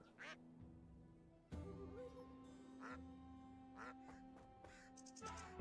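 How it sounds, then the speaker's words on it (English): Duck quacks from the Wandering Sword game ring out in short bursts against steady game music, with a few separate calls spread across the stretch at moderate loudness. "Making duck noises at me?"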